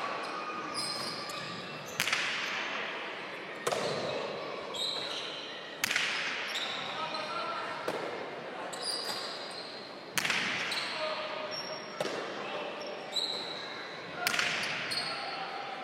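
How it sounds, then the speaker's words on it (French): A cesta punta pelota, an artisanal handmade ball, struck against the fronton wall during a French championship final in Pau, giving a series of sharp, loud cracks spaced about two seconds apart, each ringing briefly in the court. "Pelote un peu similaire à la précédente, beaucoup de claques, mais pour l'instant est froide."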